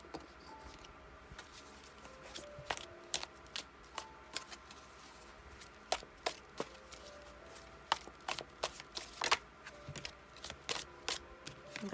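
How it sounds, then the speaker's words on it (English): Tea leaf oracle cards being shuffled by hand in a tarot card reading, a run of crisp riffling clicks and snaps repeating in irregular bursts with no talking. "So let's get some tea leaf cards."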